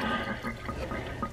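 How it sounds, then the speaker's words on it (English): Water drained from a container of thawed frozen shrimp into a sink, a steady close splashing trickle with small drips throughout. "So I'm gonna drain this water"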